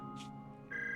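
A mobile phone rings in the anime-style action game Zenless Zone Zero, a short electronic ringtone chime with sustained tonal notes rising at the end, clear and close over quiet game ambience, with no voices.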